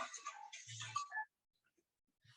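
A mobile phone ringtone chirps in a short melodic burst with a low buzzing vibration underneath, then cuts off into near silence before a faint chirp returns at the end.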